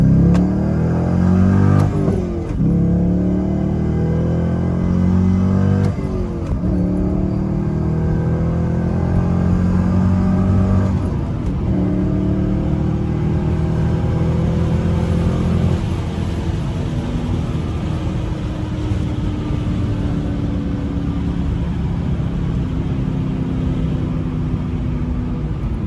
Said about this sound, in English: Let off it completely at like 3 miles an hour, and then I just press the gas.